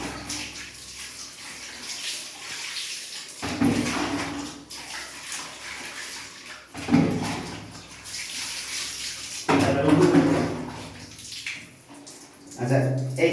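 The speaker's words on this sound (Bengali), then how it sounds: "তো এবার আমি জল দিলে পুরো স্ক্রিনটা আমার ক্লিন হয়ে যাবে।" Running water rinses soap off a printing screen, a steady close gush that swells and dips as the screen is moved under the stream, with a voice talking over it.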